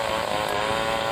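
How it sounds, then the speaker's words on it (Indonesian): Chainsaw running steadily at high revs as it cuts into the main trunk of a mango tree, a loud, continuous buzzing whine close by with no pauses. "dia menyalakan mesin gergaji dan mulai memotong batang utama mangga"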